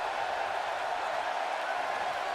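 A virtual arena crowd in WWE 2K18 at a DCW Summer Madness match, a steady dense roar of cheering and applause as the champion circles the ring, even and sustained without any break.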